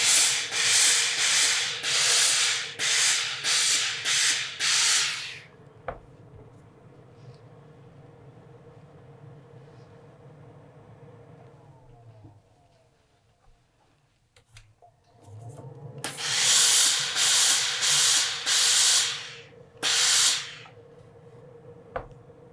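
A steam iron presses a sewn seam allowance open on a quilted jacket. Loud bursts of hissing, rubbing strokes come at the start and again near the end, with a long quieter stretch of steady low hiss between them.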